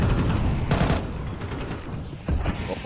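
Rapid bursts of rifle fire in a Counter-Strike match, several sharp cracks in quick succession that stay loud and close over dense game ambience.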